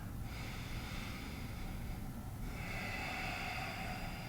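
Steady breathing of a yoga practitioner in a calm session, soft long breaths flowing in and out, quiet and close with no talking.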